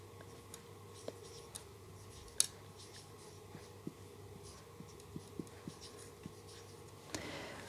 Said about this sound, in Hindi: यहाँ पे लिख लेते हैं फर्स्ट कंडीशन